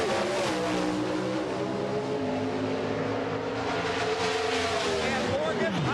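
Motorcraft Ford Probe pro stock drag car roaring down the track at a 1990 NHRA race, a loud sustained engine howl with shifting pitch, heard from on board, with commentary over it.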